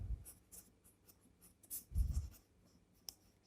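Pen or chalk scratching out the statement of a circle geometry theorem about arcs and angles, in short scratchy bursts of strokes, fairly faint, with no voices.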